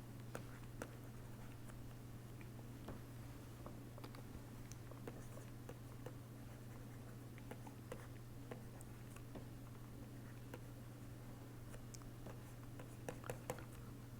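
Pen writing on paper while a diagram is sketched during a transistor-switch lecture: faint, irregular scratching strokes and light taps over a steady low electrical hum, with no talking.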